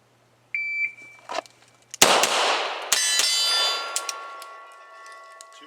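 A shot timer beeps, then pistol shots ring out at a range and clang hard off steel targets. Two loud reports each leave a long metallic ring that fades, with no talking.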